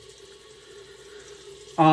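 Water running from a tap to warm up for shaving lather, a faint steady hiss under a low hum, ending abruptly as a voice begins speaking.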